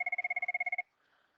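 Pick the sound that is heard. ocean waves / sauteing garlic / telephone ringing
telephone ringing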